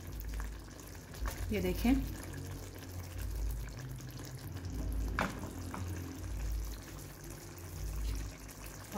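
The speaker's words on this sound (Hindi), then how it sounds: "अपने पॉट को ऐसे पकड़ के यूँ हिलाना है ताकि ये बॉल्स चारों तरफ से अच्छी तरह से पक जाएं" Kofta meatballs cooking in masala in a pot that is shaken by hand: low, bubbling simmer and soft sloshing rumbles, with a brief spoken remark partway through.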